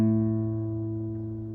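An acoustic guitar's open A string is plucked once and rings out with a sustained low tone that decays slowly, alone with no talk.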